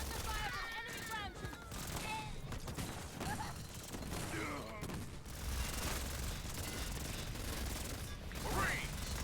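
Rapid gunfire on ODST troops in Halo Wars 2, a dense continuous clatter of automatic weapons and impacts mixed with game effects and voices speaking over the battle.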